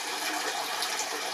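Hot water being poured into a container while making pandesal and burger buns, a brief, steady hissing gush close by.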